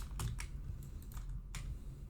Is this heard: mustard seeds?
no